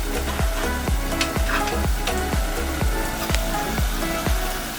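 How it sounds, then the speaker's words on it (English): A metal spoon chops fried eggs in a pan for a Kenyan-style egg stew, striking the pan about ten times in a steady rhythm of sharp, close knocks over a continuous oily sizzle. "I cut my fried eggs with a spoon like this"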